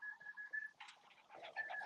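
Pigeons in a loft, with several short bursts of bird calls and wing-like rustles at close range, fairly quiet, with no talk over them.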